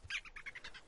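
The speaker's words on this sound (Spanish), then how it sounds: "pájaros que trinaban alegremente en las ramas de los árboles" Small birds chirp in a forest with a short run of bright, rapid tweets, fairly soft and with no talking.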